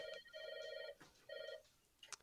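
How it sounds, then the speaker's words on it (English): A telephone rings with two electronic trill bursts separated by a short pause, moderately loud indoors, followed by a faint clatter. "Guys, you hear that? The phone?"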